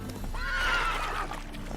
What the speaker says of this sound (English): Spooking my horse. Roach doesn't like ghosts.